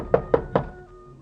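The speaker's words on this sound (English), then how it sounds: "I knocked, and nothing happened." Three firm knocks on an apartment door, evenly spaced and close, each a hollow thud with a short ring-out, followed by quiet.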